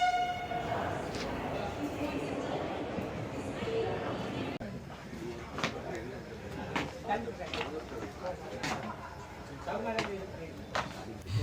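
Passenger train pulling into a station on the way from Shivpuri to Ujjain, a rumbling approach with horn tones and rhythmic wheel clatter, under busy platform chatter and voices.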